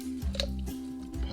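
Knife slicing through the joint of a raw chicken wing, a short wet squishing crunch and tick close by over a low background hum, with no voices.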